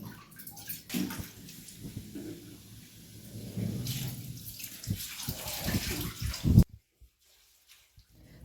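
Tap water gushes and splashes while fruit such as carrots, bananas, apples, grapes, guavas and oranges is washed, an uneven rushing flow that cuts off abruptly near the end.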